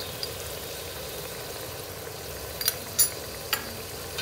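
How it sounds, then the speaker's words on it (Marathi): Spiced green gravy sautéing in a pan with asafoetida, turmeric and red chilli powder for undhiyu: a soft, steady sizzle with a few faint clinks and scrapes near the end. "आणि हिरवी ग्रेव्ही एक मिनिटासाठी साधारण आपण परतून घेऊया"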